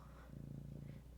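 A cat purring in a lap, a soft low rhythmic rumble lasting about a second, close and quiet.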